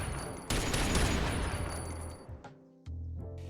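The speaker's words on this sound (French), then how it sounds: "J'ajoute des effets de tir, muzzle flash et des petites balles qui tombent au sol avec le son qui va bien." Gunfire effects in a homemade Toy Story video game: a dense rapid burst of shots that cuts off abruptly, followed by a brief pause and a renewed short burst.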